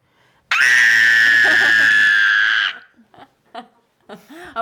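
One loud, sustained, high-pitched scream from a woman, held steadily for about two seconds at close range, then breaking off into short breathy snickers and laughter.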